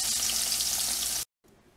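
Crappie fish fillets frying in a pan until golden brown give a loud, steady, hissing sizzle that cuts off abruptly, then returns faintly after a brief silence.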